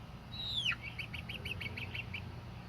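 Ameraucana and bantam chickens on a homestead give a sliding, descending squawk followed by a quick, even run of short repeated chirps, faint against a low background rumble.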